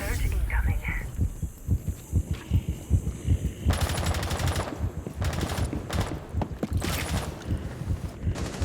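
Throbbing adrenaline-surge heartbeat effect from Rainbow Six Siege, a low pulsing beat running under rapid gunfire bursts and bits of speech during a match.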